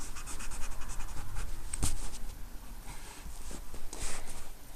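A pencil draws a curve on paper, scratching steadily and closely in short strokes with one sharper tick partway through, alone with no talk.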